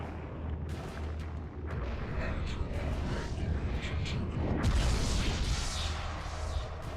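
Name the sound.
revolver gunshots in video game Eternal Darkness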